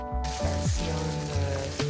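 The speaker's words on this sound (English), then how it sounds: "the palm oil and the onions, and then the tomato paste is already gonna start giving off like an aroma. You kind of want to fry the onions." Onions and tomato paste fry in palm oil for an African tomato stew, a steady close hiss of sizzling that runs under a layer of background music throughout.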